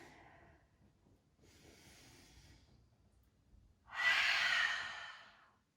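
Soft breathing during a yoga vinyasa flow: faint breaths in the first few seconds, then one louder, airy exhale that swells and fades near the end, close and quiet.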